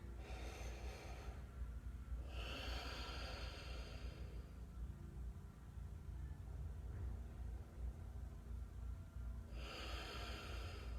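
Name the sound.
deep breathing during yoga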